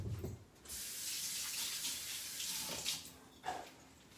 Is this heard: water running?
yes